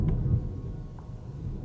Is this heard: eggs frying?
no